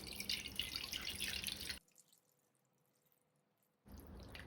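Water pours and splashes onto strained milk curds held in a cotton cloth while making rasmalai, loud and steady, then a sudden near-silence before the splashing resumes.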